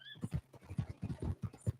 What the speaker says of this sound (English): Get on your horse.